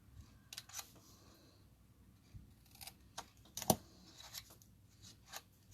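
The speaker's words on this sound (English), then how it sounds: "Cut those two squares right out." Scissors snip squares out of craft paper in several quick, crisp cuts spread irregularly over a quiet background, with one sharper, louder snip near the middle.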